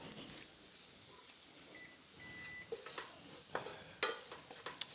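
Sea scallops with spices cooking in a pan give a quiet, steady sizzle, with intermittent clinks and scrapes of a utensil against the pan growing sharper toward the end, no talking.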